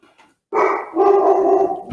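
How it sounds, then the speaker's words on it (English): A pet dog at home gives one loud, close bark and then a longer sustained bark or howl right after it. Faint background sound comes before the barks, and no one talks. "My dog is barking."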